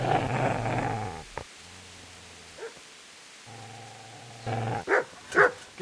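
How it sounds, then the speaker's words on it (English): A dog barks in a medieval village scene in the game Kingdom Come: Deliverance, with a few low woofs and growls near the start and a couple of sharp barks toward the end, mostly alone. "Get away, you mutt!"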